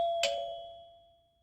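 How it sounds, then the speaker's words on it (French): Front-door doorbell with a single bright chime struck near the start, its clear tone ringing out and slowly fading to silence. "Quelqu'un sonne à la porte."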